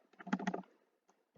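Typing on a computer keyboard: a quick cluster of close, crisp key clicks, a pause with one faint tap, then another burst of keystrokes.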